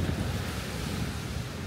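Sea waves at high tide wash steadily onto the beachfront at Port Barton, Palawan, a continuous broadband surf roar with wind buffeting the microphone, close and fairly loud, with no voices.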